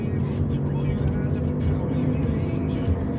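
A car drives along with a steady low road and engine rumble from inside the cabin, loud and continuous, while someone talks over it.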